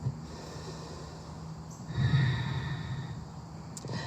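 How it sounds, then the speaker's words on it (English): A deep breath drawn and released outdoors during a yoga flow, a soft airy rush that swells midway over steady low background noise, fairly close and unaccompanied by talk. "Last beautiful breath"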